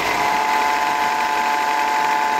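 A steady mechanical whine with a rough, rattling edge comes from the switched-on AC compressor of a Tata Manza, running continuously and close without any talk.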